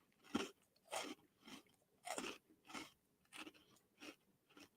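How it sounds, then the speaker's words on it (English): Crunchy, close-up chewing of a Trader Joe's Biscoff-style spiced cookie, about eight distinct bites and chews in a steady rhythm with short quiet gaps, with no talking. "previous chewing was brought to you by Trader Joe's"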